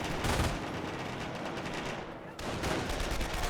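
Gunfire aimed at a Schwimmwagen in the World War II strategy game Company of Heroes comes as rapid, dense bursts of small-arms and machine-gun fire. The shots briefly drop away, then resume at the same high intensity.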